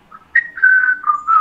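A short whistled melody from a song: a few clear, sustained tones rising and gliding between notes, close and fairly loud with no other sound.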